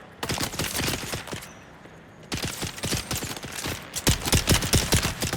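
Rapid bursts of gunfire in the desert survival game Dune: Awakening, sharp close shots fired in quick volleys with a brief pause before the shooting resumes, loud and punchy.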